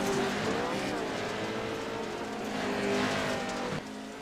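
Pro Truck racing machines at Wild West Motorsports Park roar past under load, engines droning and shifting pitch in a loud continuous blend of several trucks, easing slightly near the end.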